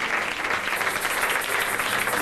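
A church congregation claps steadily as a continuous wash of applause, even and sustained throughout with no clear cheering voices standing out.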